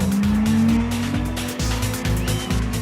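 Nissan Sylvia S14A drift cars at Red Star Raceway, Delmas, engines howling at a steady high pitch while tires squeal and scrub in rhythmic pulses, loud and near.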